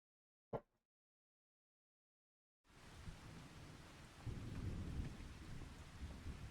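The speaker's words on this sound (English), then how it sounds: "Well, I'm going to wait this rain out." In a farming video game, a sharp click, then silence, then steady heavy rain fades in with low rumbling thunder building underneath.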